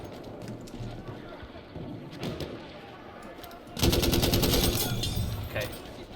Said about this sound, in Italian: Però un bel suono questo fucile.